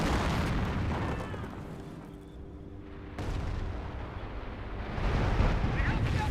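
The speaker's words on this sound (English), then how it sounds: "5B rocket barrage running in." A rocket barrage lands in the WWII strategy game Company of Heroes 1, with loud booming blasts that ease off and then build again toward the end, set in a rumbling battlefield din.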